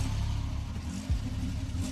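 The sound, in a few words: car driving off, from the video game Banebush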